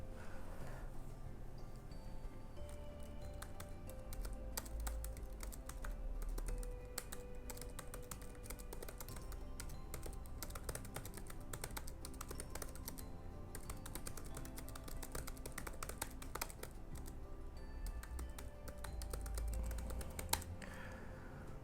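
Steady, continuous typing on a computer keyboard while copying out The Great Gatsby, dense rapid key clicks at close range with occasional heavier thumps of the space bar and no talking throughout.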